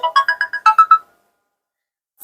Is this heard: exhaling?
no